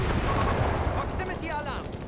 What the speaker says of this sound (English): More mines going off somewhere, lots of explosions.